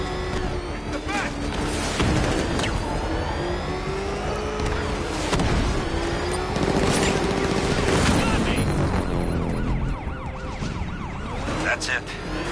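Gunfire in the Batman Arkham Knight video game, dense bursts of shots over a continuous wash of sirens and engine roar, with shouted voices throughout.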